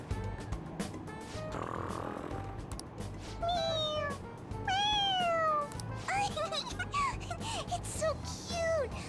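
A cartoon cat in the video game Persona 5 Royal meows repeatedly, several rising and falling cries close and clear over a soft game backdrop.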